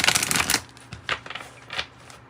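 Oracle cards from the Wisdom of the Oracle deck are shuffled with a quick riffle of papery flutters, followed by a few separate soft slides and snaps as single cards are pulled from the deck. The sounds are close and clear, with no talking.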